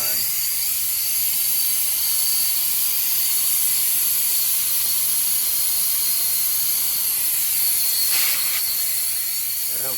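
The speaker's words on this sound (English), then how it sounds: "I'm flowing nitrogen pretty good" Nitrogen gas rushes through HVAC refrigerant lines during a compressor replacement, a loud, steady, unbroken hiss that fills the whole stretch with only slight shifts in tone.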